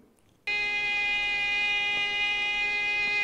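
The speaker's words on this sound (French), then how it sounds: "Que se passe-t-il si cette même note est jouée par un violon" A violin sounds one sustained bowed note A, rich in overtones, starting abruptly after a short silence and holding steadily.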